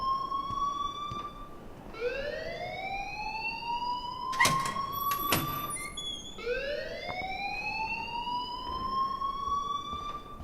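Electronic alarm in the video game Life is Strange rising in repeated upward sweeping whoops, each climbing then holding a steady tone, with a couple of sharp bright bursts between them, loud and continuous.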